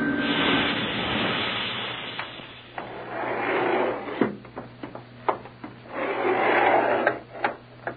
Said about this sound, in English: Sounds like another elevator coming.